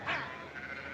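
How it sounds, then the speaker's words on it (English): A single sheep bleats once at moderate distance, a short wavering call over a faint outdoor background with a low hum. "Adam, help me get those sheep on the move."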